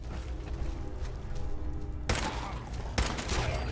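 Gunfire in Fallout 4 comes as two sharp, loud bursts that cut through a steady bed of game background noise.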